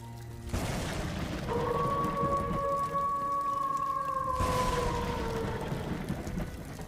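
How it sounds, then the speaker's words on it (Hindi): A strong storm on a stormy village night, with a steady roaring wash of wind and rain-like hiss and a long howling, whistling gust that swells and fades in the middle. "इतनी तेज हवा चल रही है, तूफान आया हुआ है"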